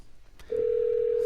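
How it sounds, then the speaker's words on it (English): Phone call placed through a Bluetooth FM transmitter car kit, a steady single dial tone starting abruptly and holding loud and clear after a brief faint rustle. "We're now dialing the number."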